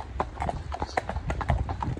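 A mare's hooves clip-clop at a steady walking pace while out hacking, each strike crisp and fairly close, repeating evenly for a couple of seconds with faint talk in the background.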